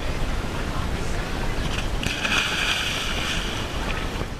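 A boat rides out on the sea past an underwater sculpture garden, with a steady wash of wind and water against the hull, and a brief louder hiss of spray partway through.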